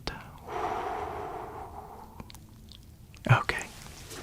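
A slow, breathy exhale from the patient during an ASMR lung exam role play with a stethoscope, soft and close, followed by a brief rustle and a short snorting breath.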